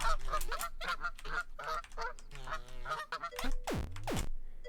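A video-game goose honks repeatedly, loud close nasal calls in rapid succession, ending with a couple of sharp swooping squawks before a brief quiet tail.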